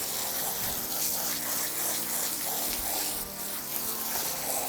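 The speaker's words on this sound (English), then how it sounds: "Okay, so I'm just gonna wash that out and then we'll do the mane" Running water rinses shampoo out of a horse's coat during a bath before a dressage show, a continuous hiss and splash of hose spray held steady for several seconds.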